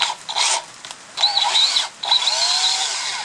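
Sandpaper rubbing a wooden dowel by hand, a steady abrasive hiss in close bursts with brief pauses, the strokes continuing unbroken through the latter half.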